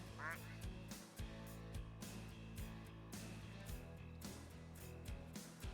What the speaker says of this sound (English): The duck spawn button gave us another duck.